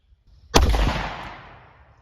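A single sharp gunshot from a snubnose revolver firing Fiocchi Covert-X 125-grain .38 Special +P jacketed hollow-point ammunition, loud and close, with a sudden crack that rings out and decays over about a second and a half.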